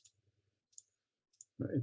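Three soft, brief mouse clicks spaced apart at a computer during app testing, quiet and isolated, followed by a burst of louder broadband noise at the end.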